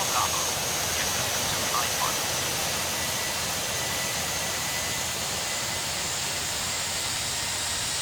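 A JetBlue airliner departing Boston Logan in the air traffic control game Tower! Simulator 3, heard as a steady, broad jet roar and hiss that stays constant and fairly loud throughout.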